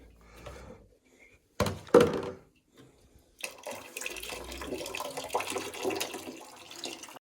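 Water splashes and pours in a bathroom during bathing, with intermittent thunks and a longer stretch of steady running water after a short pause.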